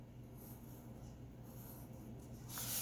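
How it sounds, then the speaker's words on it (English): A pen or pencil scratches lightly across paper as lines are drawn, a faint, continuous scraping heard alone in a quiet room. "So I'm going to draw that as well."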